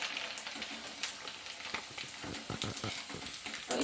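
Sabudana papad frying in hot oil: a quiet, steady sizzle with fine crackles and bubbling, close by and without talk.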